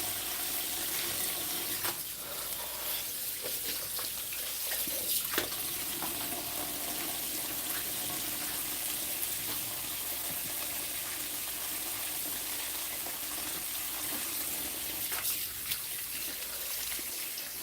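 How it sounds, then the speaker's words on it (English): Hands are washed under a running kitchen tap during fresh juice preparation. Water streams in a steady, unbroken rush throughout, with faint splashes and shifts as the hands move through the flow. "hand washing, hand washing,"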